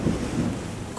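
Thunderstorm in the Terra Nil video game, with a steady low rumble of thunder and rain washing across the whole second, fairly loud and unbroken, with no talk.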